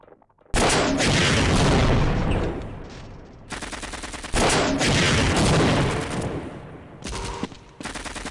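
Booming explosions and rapid gunfire from the video game Half-Life, a grenade set down near a tank, come as loud, dense, sustained blasts in several long bursts with brief gaps between them.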